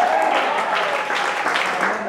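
A church congregation applauding loudly, a dense continuous wash of clapping from many hands that holds steady throughout, with voices mixed faintly into it.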